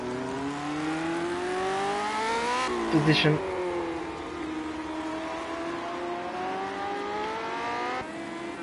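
A Lotus 78 race car in a racing video game at Brands Hatch, its engine revving and rising through gears with a whining pitch, steady and close, while someone talks over it.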